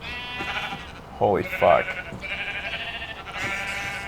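Sheep bleating in the Minecraft video game, two short wavering bleats in the middle, with someone talking and exclaiming around them.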